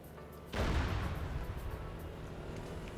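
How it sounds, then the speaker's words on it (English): A launcher fires in a multiplayer military combat simulation, starting with one sudden deep boom that rolls out into a long, loud rumbling roar that slowly fades over a few seconds. "That was a launcher sound."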